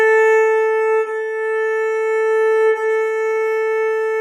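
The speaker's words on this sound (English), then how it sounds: "I'm going to play my A for you right now so you can hear it." A single sustained bowed note on an open A string rings steadily from a string instrument, close and clear, with two slight dips where the bow changes direction and no talking.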